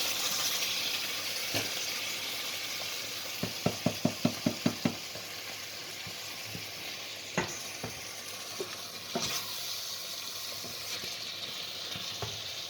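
A pan of Balti curry sauce bubbles and sizzles with a steady hiss, broken by a quick run of sharp taps from stirring and scattered clinks as sieved tomato passata is worked in.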